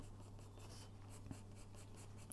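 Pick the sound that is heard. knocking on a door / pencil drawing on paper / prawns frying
pencil drawing on paper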